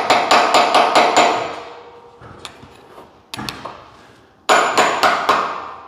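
Metal-on-metal strikes while a screwdriver is driven to pry a part off an Exmark Staris stand-on mower: bursts of rapid, loud, ringing taps, then scattered single knocks, then another quick run of hits, close up.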